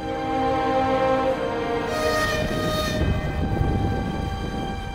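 A train departs from Vladivostok station in 1909, its loud rumble of rolling wagons steady under a sustained horn or whistle tone that swells briefly in the middle, close and continuous with no voices.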